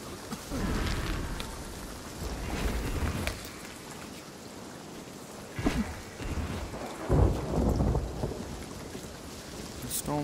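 Rain pours steadily in a Sea of Thieves storm at sea while thunder cracks and rumbles in several loud bursts, no voices.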